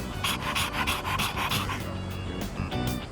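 A dog pants rapidly and rhythmically in the video game Persona 3 Reload, quick breathy puffs close up and fairly loud, with faint background music underneath.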